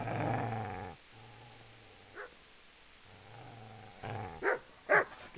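Dog growling in the video game Kingdom Come: Deliverance, a low rumbling snarl in the opening second followed by quieter gaps and a few short sharp yelps or barks toward the end.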